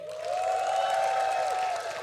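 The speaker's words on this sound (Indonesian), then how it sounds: "Coba sorak-sorak yang paling luar biasa buat Yesus kita hari ini." Church congregation at an Indonesian Pentecostal youth service cheering and shouting for Jesus, a sustained loud crowd roar with a steady held tone running through it, with no individual words.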